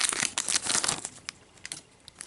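A Pokémon Sun and Moon booster pack's foil wrapper is torn open up close, a dense burst of crinkling and ripping that trails off into scattered softer rustles.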